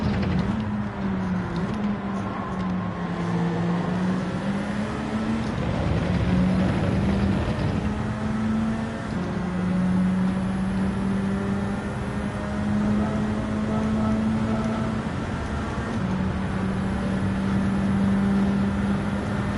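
Racing cars in Gran Turismo 7 during the last lap of a GT4 Open sprint race at Yas Marina, a steady engine drone with sustained tonal whine running continuously and loud throughout.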